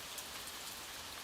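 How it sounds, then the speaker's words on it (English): Gentle rain patters steadily as a soft, even hiss of many drops hitting a surface, with no talking and no other sounds. "allow the gentle patter of rain to wash away your cares"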